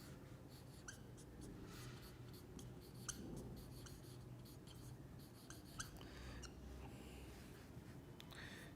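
Marker or chalk strokes scratch across a board as a heading is written during a chemistry lecture, a run of short squeaky and scraping strokes with small pauses, fairly close over a steady low room hum.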